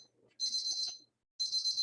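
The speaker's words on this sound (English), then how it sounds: "Timer is done." A tea timer beeps in two bursts of rapid, high electronic pips separated by a short pause, heard clearly in a quiet room.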